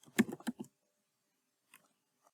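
Quick keystrokes on a computer keyboard entering an employee name, a brief close burst of soft clicks followed by a pause and a couple of faint final taps.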